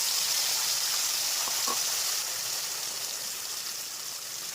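Spice paste hits hot oil in a pan while cooking soybean kofta, giving a steady, even sizzle that fades slightly as it settles.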